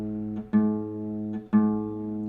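On a guitar tuned a quarter step down, the open A string is plucked twice, each note ringing and sustaining evenly, close and alone.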